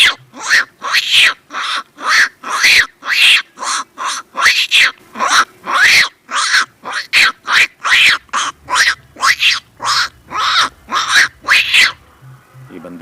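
A man mimics the calls of baby monkeys with his voice, producing a rapid series of about two dozen sharp, high-pitched squeaks and chatters in quick rhythmic bursts, loud and close.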